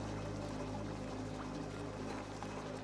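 Polluted water pours steadily in the Oxygen Not Included game, a continuous broadband wash with a low hum beneath it and no voices.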